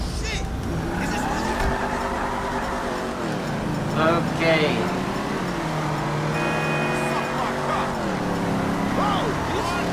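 Car engine driving in Grand Theft Auto V, a steady droning motor with rising and falling revs across the stretch, under someone talking with a brief spoken word.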